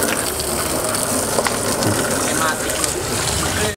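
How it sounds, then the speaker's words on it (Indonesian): Water sprayed from a hose while cleaning out a freezer, a loud continuous gushing and splashing rush that holds steady before cutting off abruptly at the end. "nanti baru kita semprotkan lagi pakai selang air ini"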